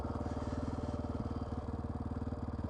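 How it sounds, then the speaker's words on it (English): A street motorcycle's engine runs steadily and close, with a rapid, even pulsing putter that carries on throughout with no talk, the sound of riding along Tennessee roads. "So far, a good street bike ride, you know."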